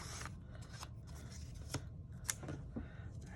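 Scissors cut cardstock in a quiet crafting space, making several faint, crisp snips and rasps at an irregular pace over a soft background hiss.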